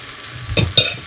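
Paniyaram batter poured into a hot pan hisses as a steady sizzle, broken by two sharp crackling bursts from the oil, with no voices.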